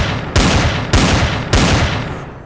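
A turret fires in the sci-fi survival game Empyrion - Galactic Survival: three heavy, loud blasts land roughly half a second apart, each with a long booming tail that rolls into the next.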